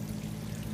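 Water pours steadily from a spigot into aquaponics grow beds, a continuous moderately loud stream with a low hum beneath it, unbroken for the whole moment.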